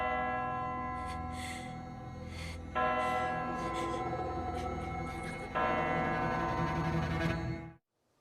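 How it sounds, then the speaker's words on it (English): A bell ringing out in a horror setting, a sustained, droning metallic tone with rich layered overtones that swells in two stepwise surges before cutting off abruptly, steady and fairly loud throughout. "as the bell begins to ring out"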